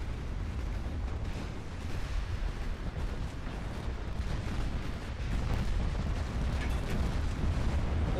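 Heavy naval 18-inch guns firing in the video game Ultimate Admiral: Dreadnoughts, a dense continuous rumble of booming artillery and distant explosions with no clear separate shots, loud throughout.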